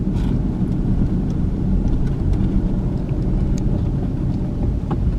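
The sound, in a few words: car driving around a rural Georgia town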